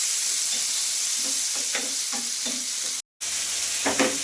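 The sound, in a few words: tomato and green chillies frying in a pan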